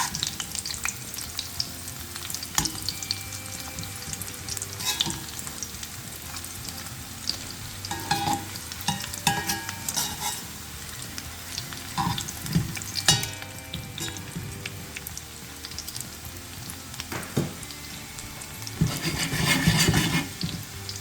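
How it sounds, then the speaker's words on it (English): Homemade onion rings fry gently in oil, a continuous moderate sizzle with frequent crackles and occasional clinks of utensils, swelling into a louder bubbling spurt near the end, with no talking. "And we're going to fry it for about 3 minutes on each side."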